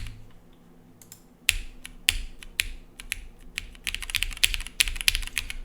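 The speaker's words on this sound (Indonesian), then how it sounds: "Coba kita testing lagi pakai si via kita testing pressing pakai sedikit pressure ya, apakah terjadi double click." Keys on a TKD Cycle7 custom mechanical keyboard pressed firmly, irregular clicky strikes that start sparse and get faster into dense bursts of typing, close up.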